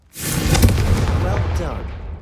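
A fiery Confringo spell goes off in Hogwarts Legacy, a sudden loud blast that swells in and sustains as a roaring burst, with crackling trailing off toward the end.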